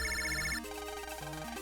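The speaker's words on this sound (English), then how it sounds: "the water heater alarm is ringing" A water heater alarm in the Mega Man Battle Network 2 video game rings as a rapid, pulsing electronic ringtone-like trill, followed by a chirpy synthesized melodic phrase, loud and clear without any voices.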